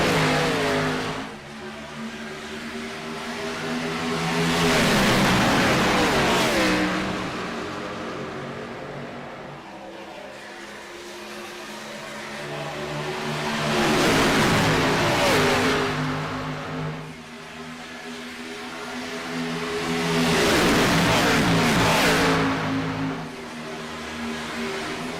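Stock cars roar around EchoPark Speedway at a restart in the iRacing game, three loud engine passes swelling and fading in turn as the pack revs by, with no voices.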